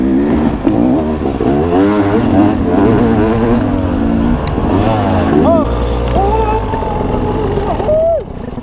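A dirt bike engine revs and climbs through the gears on a slick riding track, loud and close. The engine whine rises and falls in repeated sweeping bursts while a rider talks over it.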